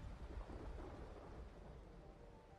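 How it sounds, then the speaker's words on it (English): Rain pours steadily in a video game while low rolling thunder rumbles underneath, fairly faint and continuous with no talking. "It's fucking raining."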